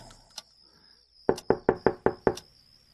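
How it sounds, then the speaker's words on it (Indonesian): Knuckles rap on a bedroom door from the inside, one lone tap followed by a quick run of six sharp, close knocks in steady rhythm. "Aku coba mengetuk dari dalam untuk membalas ketukannya."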